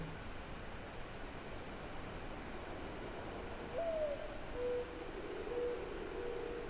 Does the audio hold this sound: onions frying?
no